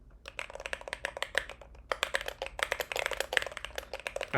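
Close, crisp keystrokes from a split keyboard with Glorious Panda tactile switches pour out in a dense, uneven flurry, growing busier toward the end, with no voice.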